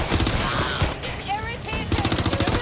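Gunfire in the video game Watch Dogs: Legion, a loud, rapid burst of automatic shots at close range that breaks off briefly and then resumes.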